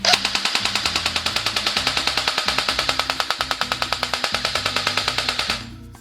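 An airsoft BAR 1918 A2 replica fires on a charged battery in one long, fast, evenly spaced burst of mechanical clacks lasting several seconds, loud and close, before the motor winds down at the end.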